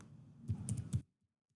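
Rapid run of computer keyboard keystrokes while typing text, a handful of close, crisp clicks in quick succession that then stop, leaving near silence.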